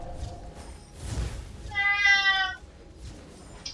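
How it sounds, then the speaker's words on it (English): A pet cat gives a single clear, drawn-out meow from nearby in an otherwise quiet room, with faint background sounds before and after. "That would be my cat, greeting me with his early morning call"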